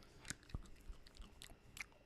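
Someone chewing a Bean Boozled novelty jelly bean during a tasting game, giving a few soft, close crunchy bites and wet mouth clicks, faint and irregular with no talk.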